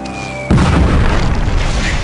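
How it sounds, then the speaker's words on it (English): A single heavy artillery explosion from a wartime bombardment bursts suddenly after a quiet tonal lead-in, a loud close boom that settles into a sustained low rumble. "Bombardment's reaching a high spot."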